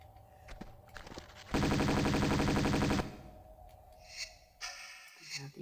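Tomb Raider II gunfire: a loud, rapid burst of automatic shots lasting about a second and a half, set between quieter scuffs and footsteps.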